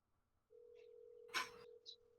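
A telephone in a video game gives off a steady, faint electronic tone for over a second, broken by a sharp burst of noise and a few small high beeps, with quiet voices in the background.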